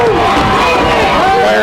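A crowd at a girls' regional basketball game roars and cheers loudly and continuously, a dense wall of voices and shouts rising and falling under excited energy.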